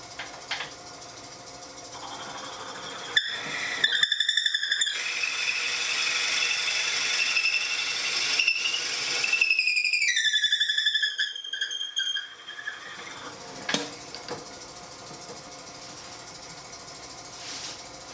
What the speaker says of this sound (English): Slow it down and see if it stops the squealing.